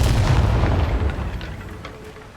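A Bombarda spell blast in Hogwarts Legacy lands as a deep, loud boom with a rumbling low-end burst that fades out over a couple of seconds.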